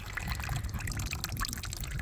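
Saved water poured onto a container garden, a steady splashing and trickling stream of liquid close by, running continuously without pause.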